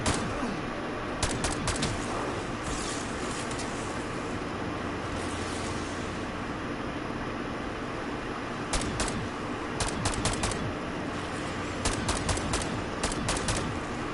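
Rapid bursts of gunfire from the Call of Duty Black Ops 4 Zombies video game, with repeated loud sharp shots clustered in volleys over a steady rumbling game background.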